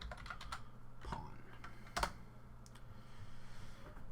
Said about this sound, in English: we're going to type into the chat /Pawn